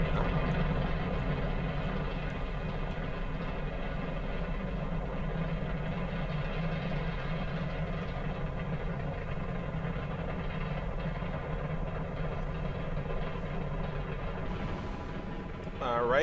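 Rocket liftoff in Kerbal Space Program, a Moon Dragon craft powered by five F1 engines, giving a steady, loud, low rumbling roar that holds unbroken throughout, with a brief swell near the end.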